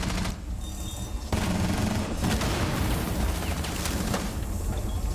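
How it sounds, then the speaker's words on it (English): Gunfire from a Rainbow Six Siege match rattles in dense, rapid bursts and intensifies after a brief lull, loud and close, with no talking. "A lot of bullets going right by Mako unfazed"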